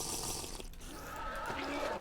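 Water is poured from a bucket in a video game, a faint splashing gush that runs steadily for about two seconds before cutting off.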